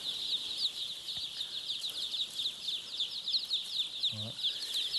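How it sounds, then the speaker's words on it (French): Three-day-old chicks peeping continuously in a dense, high chorus, close and steady throughout, with a brief low voice-like murmur near the end. "je vais vous montrer un peu plus les petits poussins"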